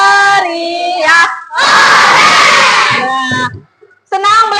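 A classroom of children shouts together in one loud, sustained burst, bracketed by an adult voice speaking before and after.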